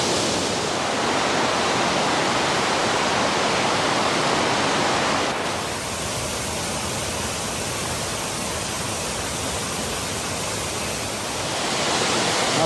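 Shawnee Falls at Ricketts Glen State Park pours in a loud, steady broadband roar that fills the whole scene, with a slight dip in intensity partway through and no voices over it.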